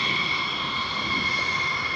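An aircraft taxis along the runway at RAF Lakenheath, its engine giving off a steady, continuous whine and roar at moderate distance, with no voices over it.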